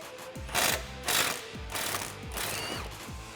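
A socket wrench on a long extension ratchets against a Jeep Wrangler TJ shock bolt, with repeated close, loud clicking bursts in a steady back-and-forth rhythm, alone with no talk.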